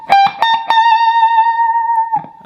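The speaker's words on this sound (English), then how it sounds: "I played the 20th fret unbent, and then I'm going to bend it and pluck twice" On an electric guitar, a high note at the 20th fret of the B string is bent and plucked twice, in a solo. Several quick picked attacks open into one long, singing sustained tone, loud and close.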